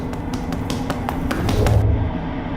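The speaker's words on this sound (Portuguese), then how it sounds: "A gente consegue ouvir alguns passos correndo atrás da gente." Quick footsteps run along a dark corridor in an animated show, with a series of sharp, evenly spaced taps close by that end abruptly.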